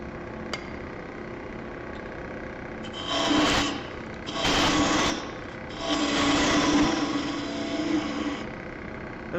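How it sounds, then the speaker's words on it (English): A woodturning gouge undercutting a wooden goblet on a lathe, giving three raspy scraping bursts of a few seconds each over a steady motor hum, close and fairly loud. "I'm going to undercut this with the gouge a little bit."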